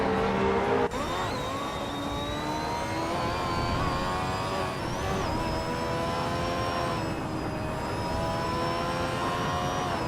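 Race cars lap a circuit with engines holding a steady high whine and layered rising tones, loud and continuous without a break, with no voices.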